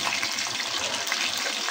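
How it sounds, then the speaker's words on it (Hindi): Pakoras dropped a few at a time into ready hot oil, a steady dense sizzle and bubbling hiss, close and continuous throughout. "ये ऑयल हमारा बिल्कुल रेडी हो चुका है। अभी जैसे पकोड़े डालते हैं ना थोड़े थोड़े करके"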